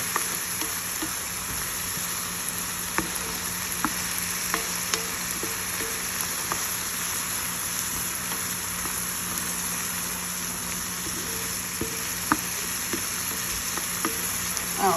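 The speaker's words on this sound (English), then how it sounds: "right now we're just sauteing onions and garlic" Onions and garlic sauté in a pan over medium heat, a steady, close sizzle that runs unbroken, with a few light clicks of a utensil against the pan.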